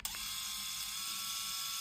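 Philips i9000 Prestige Ultra electric shaver switching on: a brief click-like onset followed immediately by a steady, bright motor whir that holds at an even level, close up and alone.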